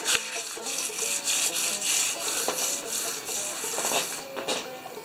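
Light sandpaper strokes rub gently over painted wood to knock down raised grain, a steady close scratchy swishing that rises and falls in a back-and-forth rhythm without pause.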